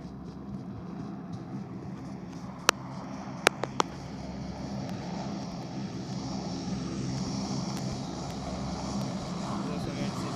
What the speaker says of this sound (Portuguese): esse avião